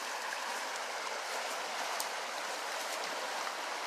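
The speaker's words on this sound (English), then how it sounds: "Remember this river that was raging all crazy the first of the summer? And look at it, it's pretty mellow." A mellow river running low after an early-summer surge, giving a steady, even broadband rush of flowing water, close and continuous with no breaks and no voices.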